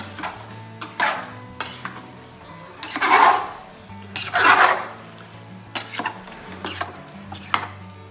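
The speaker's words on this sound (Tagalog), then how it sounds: "And then, hahaluin natin." A spoon scrapes and knocks around a pot of sweet sugared cooking mixture, with irregular clanks and two longer scraping swirls, close and fairly loud, over a low steady hum with no talking.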